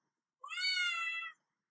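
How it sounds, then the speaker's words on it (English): A pet cat named Conchita, a female, lets out a single drawn-out meow indoors, clear and fairly close, lasting about a second with no talking around it. "Sorry about the weird noises, I have a cat."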